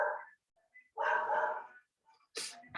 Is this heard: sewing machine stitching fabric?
no